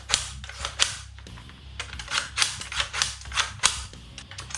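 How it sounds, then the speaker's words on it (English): Mechanical clacks and snaps of the extended charging handle on a Cyma AKS-74U airsoft gun being pulled back and released repeatedly, crisp close metallic-plastic clicks in an irregular series, no voices. "Comes with the extended charging handle. It's very comfortable and easy to pull back."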